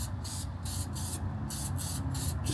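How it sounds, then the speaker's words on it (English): Aerosol battery terminal protection spray hisses from a can onto an EZ-GO TXT48 golf cart's battery terminals, several short bursts separated by brief gaps, close and steady, with no talking. "I always like to apply some battery terminal protection spray"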